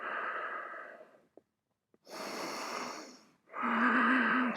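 Slow, deep yoga breathing during a vinyasa flow: a long exhale, a short pause with faint clicks, then two more drawn-out breaths, close and clear, with no talk.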